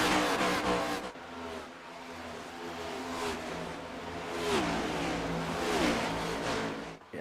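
Race car engines in an iRacing NextGen stock car race at Chicago, with several cars roaring past in overlapping waves of revving and shifting, loud and continuous.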